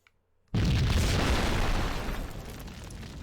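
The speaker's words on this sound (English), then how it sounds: "I just took a rocket to the face." A rocket explosion in the Max Payne video game on PS4 erupts suddenly after a near-silent moment, a loud close boom whose heavy rumble and debris roar decay slowly over about three seconds.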